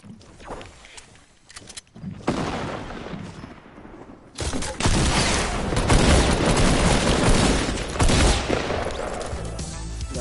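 Dense gunfire and explosive blasts from a grenade launcher in a Fortnite match, loud and chaotic, with bursts of shots, a short lull, then sustained heavy firing and booms filling the rest.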